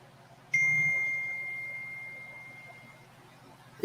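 Mobile phone notification chime, a single bright tone ringing out clearly and slowly fading over a few seconds in an otherwise quiet room.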